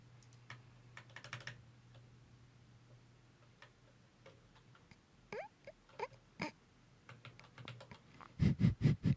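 Keys clatter on a split computer keyboard in scattered taps and short bursts, ending in a louder flurry of rapid strokes, with a steady low hum running underneath.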